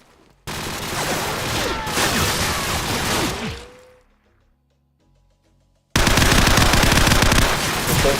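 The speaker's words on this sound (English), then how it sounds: "There's a few shots, but yeah, Fantasy gets a kill." MP5 submachine gun fire in Call of Duty 4: Modern Warfare, a loud sustained automatic burst that fades out, then a short silence before another close, dense burst of rapid shots.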